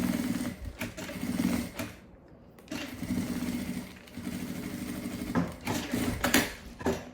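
A sewing machine stitches a nylon zipper onto a crossbody bag, running in steady bursts of rapid mechanical chatter with a short pause midway, close and fairly loud.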